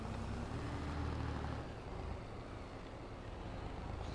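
A truck in Farming Simulator 22 grinds up a hill in a low gear, its heavy engine rumble steady and strongest early before easing slightly, continuous with no speech.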